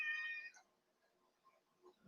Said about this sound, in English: Little kitties here.